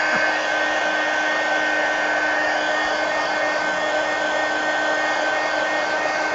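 Hair dryer blowing steadily on a painted book page, a loud, constant whooshing hum with an even motor whine that holds for the whole stretch.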